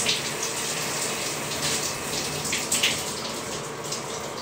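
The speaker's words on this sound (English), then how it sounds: "that's my electric shower in this room, in this machine" An electric shower in a bathroom runs steadily, a continuous hiss and spray of water pouring down at close range with small splashy variations and no voices.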